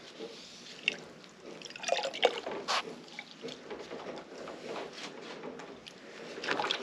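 Hands splash and rinse in a water bath used for hand-dyeing yarn, giving soft, close drips and trickles with a few sharper sloshes, quiet and with no talk.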